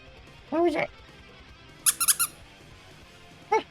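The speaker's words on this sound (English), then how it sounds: "I found my squeaker I got at Anthrocon, and I might put it in my fursuit paw." A squeaker toy meant for a fursuit paw gives a two-note squeeze, then a rapid burst of three or four squeaks, then another short squeak, sharp and close in a quiet room.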